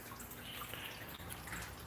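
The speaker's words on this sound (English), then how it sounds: "What you're hearing right now is the emergency drain." The emergency drain of a reef aquarium lets water trickle and gurgle steadily, a faint close sloshing with small drips, continuous throughout and with no voices.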